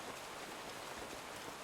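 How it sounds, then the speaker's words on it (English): Light rain drizzles steadily in an Avatar: The Last Airbender episode, a soft, even hiss of falling drops that runs without a break through the whole moment, with no voices over it. "It's going to keep drizzling."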